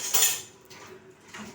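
Dishes, pots and cutlery clatter and clink during washing-up in a home kitchen, a bright clattering burst at the start, then quieter scattered clinks and a soft knock near the end, no talk.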